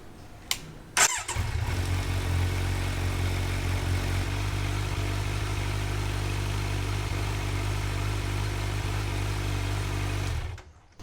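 A Kawasaki Z900 motorcycle fires up after a brief starter crank, then settles into a steady, loud, close idle with a deep rumbling exhaust that holds evenly until it cuts off at the end.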